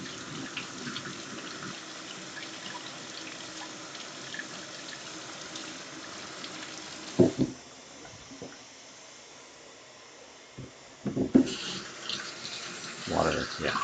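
A kitchen tap runs steadily while a utensil handle is rinsed during strawberry cheesecake prep, the stream cutting off midway, then brief bursts of water and clatter return near the sink.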